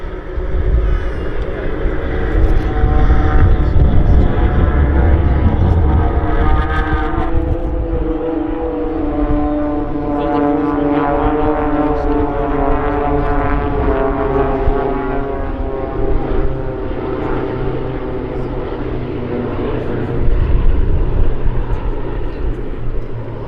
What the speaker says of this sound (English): Here come then the B17 and the Blades.